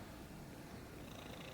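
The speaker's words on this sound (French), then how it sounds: "Ouais, on l'entend ronronner en ce moment." A cat purring steadily and softly at close range, a low continuous rumble with no talking.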